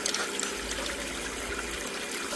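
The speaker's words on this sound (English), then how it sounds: "I'm just going to use my spoon just to change the way the water's sitting there, just to get it to migrate down into the mat" Water trickles and gushes steadily across a sluice mat on a Miller table, a soft continuous wash with small irregular splashes as a spoon moves it, with no voices.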